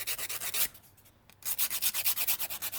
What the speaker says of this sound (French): je vais passer un petit coup de lime à ongles